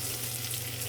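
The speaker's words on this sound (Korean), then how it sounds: "토마토도 좀 넣고 같이 볶을 거예요." Onion, garlic and tomato stir-fry in a pan on an SK Magic induction cooktop, giving a loud, continuous, dense sizzle close up with no voices.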